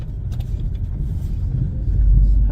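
A 1998 Toyota RAV4 with manual transmission and four-wheel drive rolls along, its steady low engine and road rumble filling the cabin continuously, swelling slightly louder toward the end.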